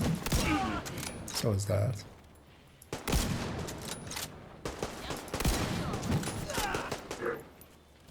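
Video game gunfire bursts out in scattered volleys and single shots, loud and close, mixed with thumps and someone talking over the action.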